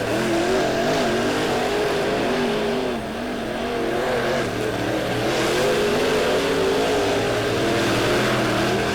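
Race cars lapping Lebanon Midway Speedway during a heat race, a loud, continuous engine roar rising and falling as cars accelerate and pass close by.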